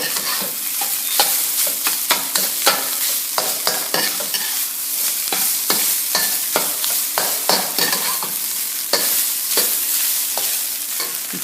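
Fried rice with eggs and vegetables stirred in a hot pan, with constant close sizzling and repeated sharp scrapes and taps of a utensil against the metal, no talking.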